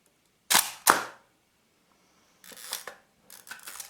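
A Hasselblad Planar C 80mm f/2.8 lens shutter fires twice in quick succession, two sharp mechanical clacks, then two softer clicking mechanism sequences after a pause, close and isolated.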